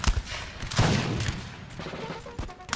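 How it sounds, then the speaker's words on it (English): Light infantry musket fire in a Napoleon: Total War battle in Spain, a dense crackling fusillade of overlapping shots with a few sharper cracks standing out, brief and loud. "my light infantry is kind of putting up a pretty good amount of fire on the troops right now"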